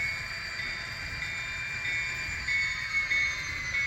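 A model locomotive runs along a layout track with a steady mechanical hum and a thin high whine, with no current keeper fitted, close and continuous with slight bumps toward the end.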